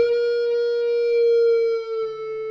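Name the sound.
guitar half-step bend on G string 14th fret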